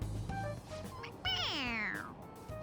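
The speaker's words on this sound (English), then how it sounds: "It meows when you press on its head." A toy cat in Persona 5 Royal meows when its head is pressed: a single long, drawn-out meow with a falling pitch, clear and close, preceded by a few short tonal game sounds.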